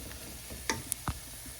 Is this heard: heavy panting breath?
no